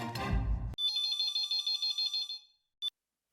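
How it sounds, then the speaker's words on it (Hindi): A brief burst of noise, then an electronic phone ringtone trills in quick repeated pulses, stops, and gives one short final beep. "मैं अभी नट्टू काका को फोन लगाता हूँ"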